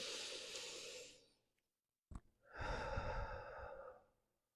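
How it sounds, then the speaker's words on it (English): Slow deep breaths during a yoga practice: a long close exhale through the nose that trails off, a pause, a short sharp intake, then another long airy breath out, with no talking. "One more deep breath."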